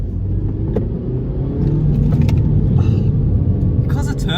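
A BMW 116i Sport with a small turbocharged engine drives around corners at about 40, giving a steady low engine rumble and road noise throughout, with a few faint interior clicks over the top.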